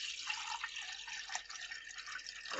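Purified water pours into a blender jar, a steady, close splashing and trickling stream that runs continuously for a couple of seconds.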